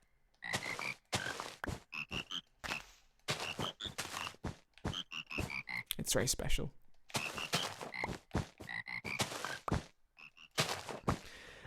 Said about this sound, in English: Oh, guys, it's the frog song.